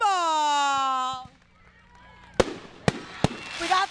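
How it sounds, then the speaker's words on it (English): Fireworks at Camp Blue Ridge go off as several sharp bangs and crackles, following a long tonal whistle at the start. "We got some nice fireworks here at Camp Blue Ridge."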